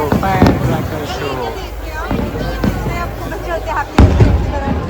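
A fireworks show at Global Village Dubai, heard from a distance as a few sharp bangs spaced seconds apart beneath steady crowd hubbub and people talking nearby.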